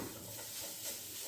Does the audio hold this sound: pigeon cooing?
no